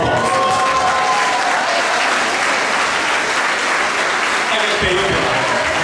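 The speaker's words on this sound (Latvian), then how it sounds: "Aplausties!" Audience at an autumn folk dance concert gives loud, dense sustained applause, a continuous wash of clapping with some crowd voices mixed in throughout.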